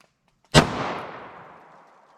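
A single sharp gunshot from a 3-inch-barrel revolver firing .38 Special +P rounds rings out close and loud, then decays over about a second and a half of echo, with no voices.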